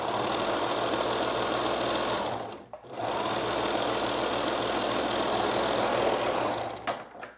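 A sewing machine runs fast and steady while stitching the side seam of a McCall's 8053 dress, with a brief pause near the middle before the dense whirring hum resumes, close and loud, then ends in a few quick clicks.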